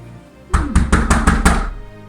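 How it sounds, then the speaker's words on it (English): Six quick, hard knocks on a door land in a steady, even rhythm, loud and close, with a short resonant thud behind each rap and no talk over them. "Someone's knocking."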